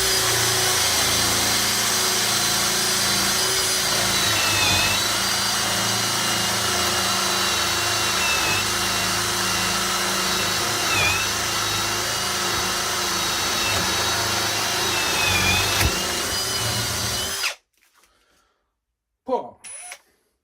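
An AEG power drill bores a 20 mm hole in drilling mode at speed 2, a loud steady whine with grinding load variations running continuously for about seventeen seconds before cutting off abruptly, followed by brief faint handling noises.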